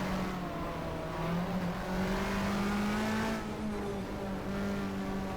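Racing car engines from the GTR2 game at Winton, a 1994 Australian Manufacturers Championship field including a Mercedes, steady droning revs with a rising and falling pitch as cars push through a chicane, continuous and fairly loud with no talk.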